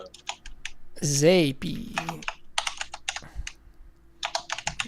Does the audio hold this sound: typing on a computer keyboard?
yes